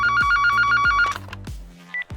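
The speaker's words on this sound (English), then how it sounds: "Next comes the worried phone call from the bank." A telephone rings with a fast trilling bell in two loud bursts, then clicks and a short electronic tone follow as the call connects.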